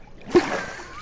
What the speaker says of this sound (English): Fell in the water